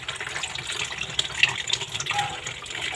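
Tap water runs steadily into a sink while dishes are washed, a close splashing gush with a few faint clinks.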